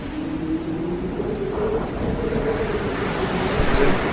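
Ocean waves wash onto a beach in a continuous, moderately loud surf rush with some wind noise, and a faint steady tone runs underneath.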